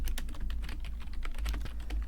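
Quick, steady clatter of keys on a computer keyboard while a full name is entered during NixOS setup, close and continuous without talk.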